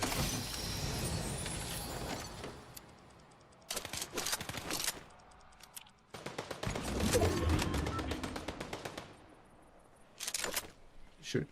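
Bursts of automatic gunfire in a Fortnite match, rapid shots in clustered volleys separated by brief pauses, loud and close with game ambience between.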